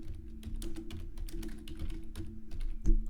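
Keys clack steadily on a computer keyboard while text is written into a WordPress website editor, a quick uneven patter of taps close by with no talk, one sharper keystroke near the end.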